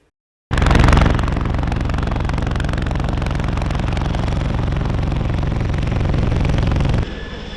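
Government of La Rioja helicopter at a firefighter training exercise in Agoncillo, its engine and rotor starting abruptly and then holding a loud, close, steady throbbing roar with fast rhythmic chopping throughout.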